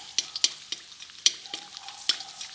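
Gond, an edible gum, frying on low heat in a pan for panjiri, with sharp crackling pops and clicks at an uneven pace over a quiet background.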